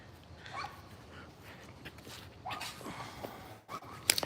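A black golden doodle named Theo yips and barks in short, scattered bursts on a morning dog walk, fairly faint outdoors with light background noise.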